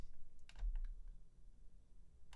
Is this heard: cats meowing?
no